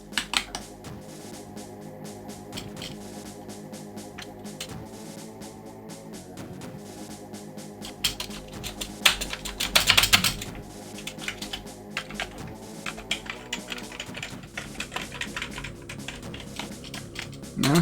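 Keys clatter on an Amiga computer keyboard in quick irregular bursts of clicks, fairly close, with a louder flurry of strokes partway through and a few mechanical knocks.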